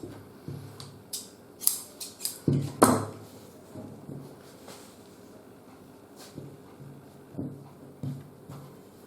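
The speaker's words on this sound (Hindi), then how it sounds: "अब ये जो इसकी लंबाई में से जो कपड़ा बचा है, उसमें से मैं आपको बाजू काट के बता देता हूं।" Tailor's scissors snip through coat cloth for a sleeve in a series of crisp, irregular cuts, several sharp metallic clicks clustered early and then spaced out, close and moderately loud with a low room hum beneath.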